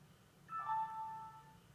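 A Street Guardian Panorama G dash cam gives a startup chime when powered on, a short, faint electronic tone lasting about a second and then fading out.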